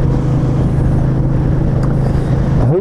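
A Royal Enfield Meteor 350 motorcycle cruising along a road in Wales, its engine a steady, loud low thrum with constant wind rush, heard up close from the rider's position without talk.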